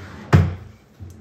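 An office desk drawer is pulled open with one sharp wooden knock and slide, then a faint second bump a moment later.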